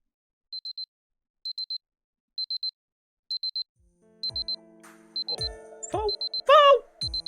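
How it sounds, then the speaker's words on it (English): An alarm clock in the video game Fate/Grand Order beeps in evenly spaced triple bursts, alone at first, then overlapped by rising game music and effects toward the end. "My alarm. It's morning."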